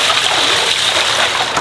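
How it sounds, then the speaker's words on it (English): Water rushes and splashes continuously in a steady, close, loud gush, like a container being flushed out, with no talk over it. "Give it a little flushing."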